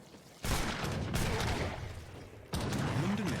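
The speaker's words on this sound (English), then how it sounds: "Big old shot from the crack shot" A crack shot unit fires in an Age of Empires III match: two loud gunfire bursts with booming impacts, the second arriving about two seconds after the first, over faint battle noise.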